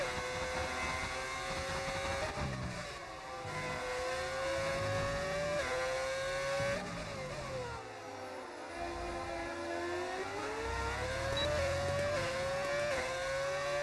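Simulated race car engine from a racing game set in Texas, a steady high whine that rises and falls through gear changes and stays loud and continuous with no talking.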